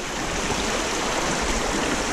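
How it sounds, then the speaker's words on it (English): Water flows steadily along a shallow stream in a continuous close, loud wash and rush of sound that carries on without a break. "find a nice section where there's some flowing water"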